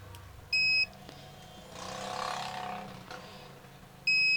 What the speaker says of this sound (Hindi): मल्टीमीटर बीप मोड में